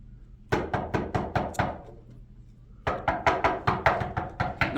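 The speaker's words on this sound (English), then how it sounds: "knocking on that door" Knuckles rapping on a door in two quick bursts of about six knocks each, close and loud, separated by a short pause with nothing else heard.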